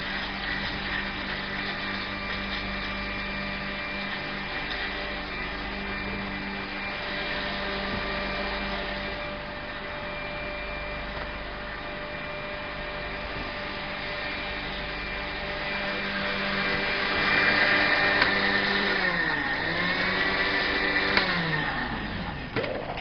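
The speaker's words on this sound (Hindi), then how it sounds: "सारे इंग्रेडिएंट्स को आपने ब्लेंड करना है" A blender whirs steadily for a long stretch, mixing ingredients for a cold morning drink. The motor hum holds even, then rises and shifts pitch near the end as the blend churns faster.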